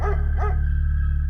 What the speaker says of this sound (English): A dog began to bark